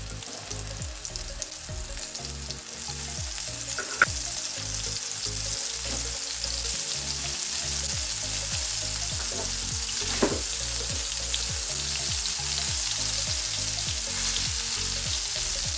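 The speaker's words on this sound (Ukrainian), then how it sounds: "буду смажити, тому наливаю на розігріту сковорідку олію соняшникову рафіновану" Meat cutlets frying in refined sunflower oil in a hot pan, a loud continuous crackling sizzle with small irregular pops, no voices.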